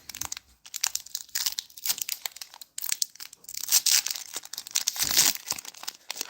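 Magic the Gathering card packs being torn open and handled, with loud, close crinkling foil wrappers and tearing, continuous irregular crackling bursts throughout.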